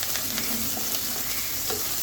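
Shrimp frying in hot oil, a steady dense sizzle with occasional stirring scrapes, close and continuous with no talking.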